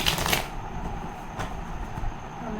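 Tarot cards shuffled by hand make a short, close riffling burst at the start, then a soft papery rustle fades into quiet room noise.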